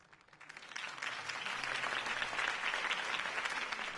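A crowd applauds after a Harvey Dent campaign speech in Gotham, a dense wash of clapping that swells quickly from a few hands into sustained, steady applause.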